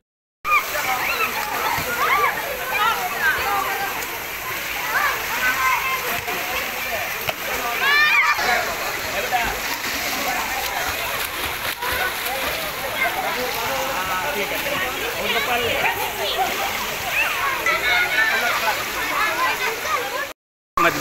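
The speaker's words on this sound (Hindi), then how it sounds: "यहाँ ग्रामीण क्षेत्र के एक स्कूल के बच्चों को लाया गया जिन्होंने पानी में खूब मस्ती की।" Rural schoolchildren, about 56 of them, splashing and playing in a new swimming pool at its opening, a steady busy churn of water and splashes with lively children's voices and shouting mixed throughout.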